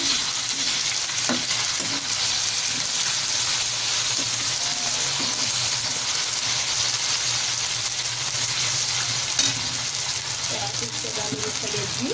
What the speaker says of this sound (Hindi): कलेजी को अच्छी तरह भूनेंगे।